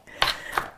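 Two quick knife chops through onion on a cutting board for a hash brown casserole, close and fairly crisp, with a short gap between them and no talk.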